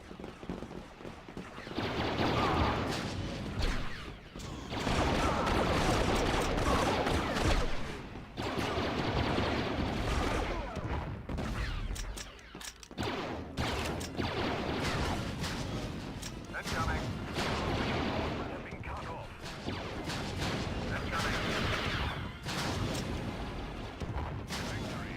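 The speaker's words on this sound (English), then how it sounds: "He's got a mortar launcher." A mortar launcher fires repeatedly in a Star Wars Battlefront battle, loud booms and blasts layered with dense gunfire and explosions that continue almost without a break.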